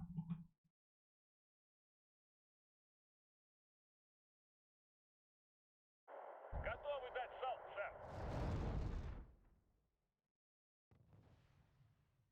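Artillery strikes land in the real-time strategy game Wargame: Red Dragon during a 1vs1 ranked match: a burst of booming, crackling impacts swells into a loud rumbling blast, then fades to a low distant rumble after a long quiet stretch.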